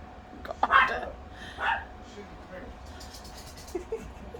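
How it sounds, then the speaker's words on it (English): Several dogs bark in short sharp bursts, one or two loud yaps up close followed by fainter yips and whimpers, amid a noisy household background. "I got 4 dogs."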